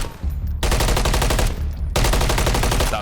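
Sustained rapid automatic gunfire in Call of Duty MW3 ranked play, loud dense bursts with a brief break in the middle before firing resumes.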